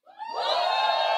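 An audience group at a live new leaders orientation shouts and cheers together as their team, Alpha, is called, the loud crowd yell rising quickly and holding steady.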